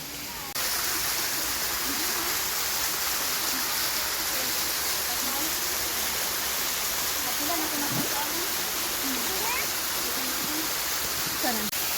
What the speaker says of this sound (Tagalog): ayan yung falls, oh